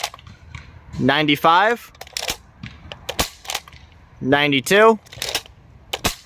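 A modded Nerf Desperado blaster firing half darts gives sharp, short snapping shots and clicks scattered through the clip, with a voice calling out numbers between them.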